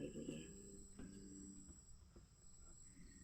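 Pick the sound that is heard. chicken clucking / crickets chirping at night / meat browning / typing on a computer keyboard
crickets chirping at night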